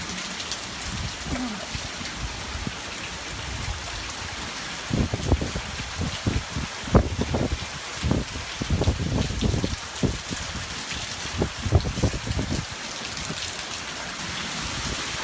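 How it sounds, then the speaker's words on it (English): Heavy monsoon rain pours down in Tempe, Arizona, a dense steady hiss of rainfall with bursts of louder drumming and splashing on nearby surfaces, heard outdoors and close. "Look at the rain out here right now."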